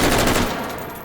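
An AUG rifle firing full auto in the H3VR video game, one loud rapid burst that rings out and decays over about a second.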